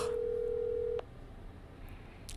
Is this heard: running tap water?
no